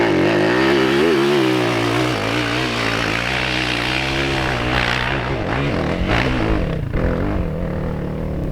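A dirt bike engine revs hard and steady on an enduro hill climb, loud and close, its pitch wavering up and down as the throttle works throughout.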